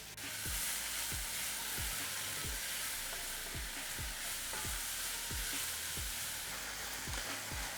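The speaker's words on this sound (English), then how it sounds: "these veggies are cooking in that fat that came from the sausage" Leeks and carrots sizzle steadily in sausage fat in a pan, a dense constant frying hiss with a regular series of soft thumps as they are stirred, no talking.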